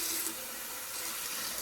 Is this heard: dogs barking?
no